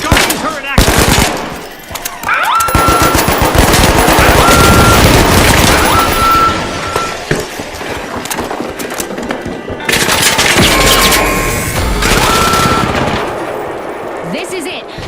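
A guardian turret in a team video game lets loose loud, sustained bursts of rapid automatic gunfire, with brief pauses between volleys and faint electronic beeps in the mix.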